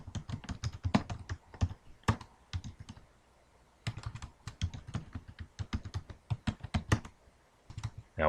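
Commands are typed on a computer keyboard during Ubuntu Server setup in VirtualBox, with rapid clustered key clicks in bursts, a short pause around three seconds, then more quick typing, close and clear.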